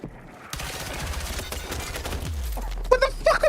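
Sustained automatic fire from the player's own weapon in Battlefield 6 battle royale, a rapid, loud stream of shots lasting about two seconds, followed by a low rumble and a few sharp chirping effects.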